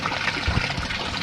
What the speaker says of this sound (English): Over here we can see water coming back in from our grow beds up the top